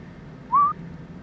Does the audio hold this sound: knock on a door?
no